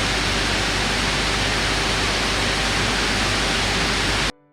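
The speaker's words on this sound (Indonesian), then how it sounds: "Pada saat gaming di mode turbo, kipasnya ini bisa mengeluarkan suara yang cukup kencang." Cooling fans of an Asus ROG Zephyrus G16 GA605WV gaming laptop in turbo mode give a steady, loud, broadband whoosh that holds evenly throughout and then cuts off abruptly at the very end.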